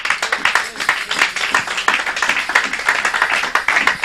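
A church congregation claps and applauds throughout, a dense sustained patter of many hands at moderate loudness, with no voices standing out.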